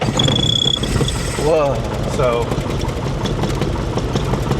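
Small airplane piston engine starting and then idling near 1,000 RPM, a loud continuous rumbling throb close by, with brief remarks spoken over it.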